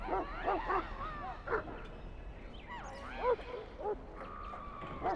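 A Mabari warhound in Dragon Age: Origins gives a series of short barks, yips and whimpers, close and clear, scattered irregularly over a quiet ambient background.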